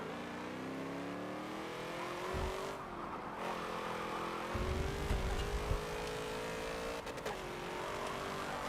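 Several race cars roar through a lap in Forza Motorsport 7, engines droning steadily with rising and falling pitch as they shift, plus occasional deeper rumbles and brief tire noise, loud and continuous with no talk.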